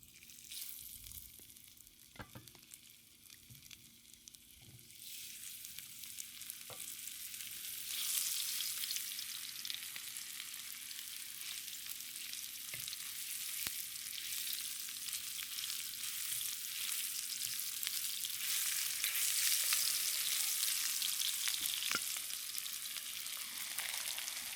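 Meat chunks dropped into vegetable oil in a hot wok, a continuous frying sizzle that swells louder over time, with occasional stirring taps and no talking.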